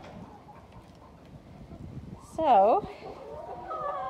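Mixed flock of laying hens clucking in their coop, soft low murmuring, then one loud, close squawk rising above it. A person speaks briefly.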